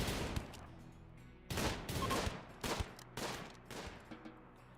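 Gunfire erupts in a space-themed video game as a group guns down a single enemy, with several loud, clustered bursts of automatic shots echoing close by and no talking.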